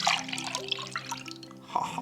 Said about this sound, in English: I don't think I'm going to be able to hold the camera and show you me pouring the orange juice